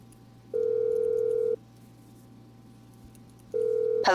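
Phone call ringing in the video game Grand Theft Auto Online, two steady electronic ring tones about a second each separated by a pause, clear over a faint hum, with a burst of another sound starting at the end.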